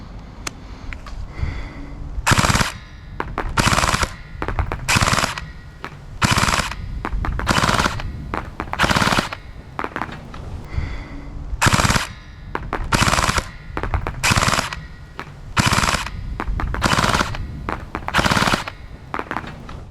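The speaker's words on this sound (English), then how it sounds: "I'll just quickly shoot some full auto to show you that quick bursts like this mean you'll hit your target every single time at 25 meters" Full-auto bursts from an LDT MP5 gel blaster, loud and close, repeated in regular short volleys with brief pauses between them and no talking.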